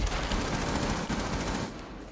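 Rapid gunfire from Rainbow Six Siege, sprayed through walls during a bomb plant, a dense continuous burst of loud close shots lasting the whole moment.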